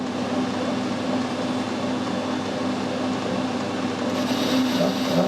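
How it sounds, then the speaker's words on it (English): A lathe parting tool cuts into a mild steel bar with a loud, continuous machining drone and rough, buzzing chatter. The sound holds steady for several seconds with no voices. "You heard the chattering noise"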